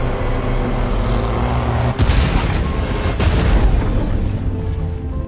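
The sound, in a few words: movie explosion of grenade launcher shot breaking rock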